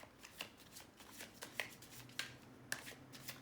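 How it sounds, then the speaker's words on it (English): Tarot cards being shuffled by hand, a continuous soft riffling with repeated crisp slaps and flicks at an uneven rhythm, close and quiet. "These cards are bouncing all over in my hands right now."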